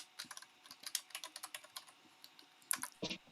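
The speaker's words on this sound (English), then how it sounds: "I'm typing that now" Fingers type on a computer keyboard during a home tabletop game session, a quick run of close, crisp keystrokes in bursts with short pauses and no talking.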